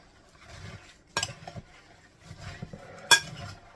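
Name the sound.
stirring nuts into melted chocolate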